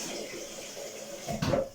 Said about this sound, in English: I'm gonna add water for my penne